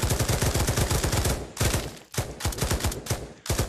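A light machine gun in the game Pavlov fires in long rapid bursts, loud and close, with two short pauses between sustained strings of shots.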